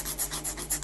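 Steady rasping of a hand file worked flat along the underside of a metal piece, rounding off a square edge, with rhythmic strokes about every quarter second, close and moderately loud, no talking.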